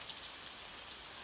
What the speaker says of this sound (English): Let the gentle rhythm of the rain blend with your breathing